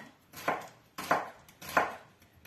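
A knife cuts leek for flammekueche on a board, three evenly spaced crisp chops about half a second apart, close and clear with nothing else heard.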